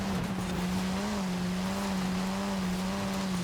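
Race car engine in the Forza Horizon game holding a steady, droning note with faint tire noise, loud and continuous with no talk, while a Honda Civic is shoved aside.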